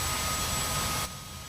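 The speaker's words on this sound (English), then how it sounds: "engine starting" Steady roaring whine of a helicopter's turbine engine spooling up in DCS World, loud and continuous, then dropping sharply in level just before the end.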